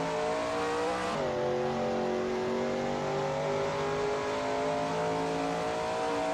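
A Shelby Mustang GT350R in a racing video game at Goodwood Circuit, its engine holding a loud, steady high-revving drone with a quick gear-shift drop early on, then pulling hard down a straight with no voices.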